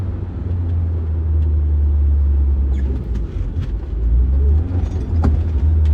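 A car engine pulls hard while accelerating in second gear, heard from inside the cabin. The rumble is steady, loud and low, and carries on unbroken, with no voices.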